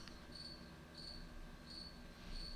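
Crickets chirp softly in the background, repeating short trilled pulses about every two-thirds of a second over a faint, low room hum. No one speaks.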